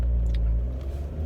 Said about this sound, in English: I can give the car a little test drive